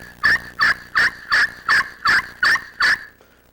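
Eight short, evenly spaced turkey yelps struck on a Black Widow glass friction call, crisp and close, each note a sharp raspy chirp followed by a brief pause.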